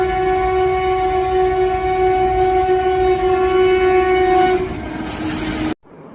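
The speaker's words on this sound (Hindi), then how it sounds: "चलो पारो हमारी ट्रेन आ गई है" A cartoon train pulls into a station with a loud, steady blast of its horn over rumbling wheels, the tone sustained for several seconds before it cuts off sharply.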